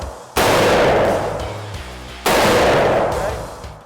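A gun fires on full auto in two long, loud, close bursts. Each burst starts abruptly and decays with a roaring echo before the next one begins.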